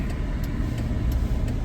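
A car engine idling in two-lane road traffic, a steady low hum with a faint regular ticking, close and continuous with no voices.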